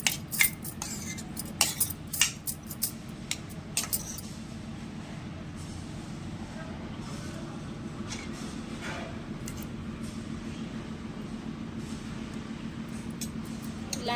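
A spoon clinks and scrapes against a pot and dishes while rajma chhole curry is served onto rice, with sharp clatters that are loudest at first and then ease into a steady low background hum.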